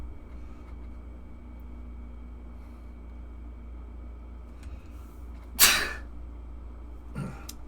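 One sharp, loud sneeze breaks a quiet room with a low steady hum, followed a moment later by a fainter second burst.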